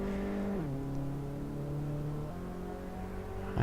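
Race car engine in Assetto Corsa approaching a chicane, a steady droning whine that drops in pitch as the car slows, then steps back up as revs rise again, without talk.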